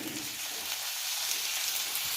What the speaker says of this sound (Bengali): আমি পেঁয়াজগুলো প্রথমে ভেজে নিচ্ছি।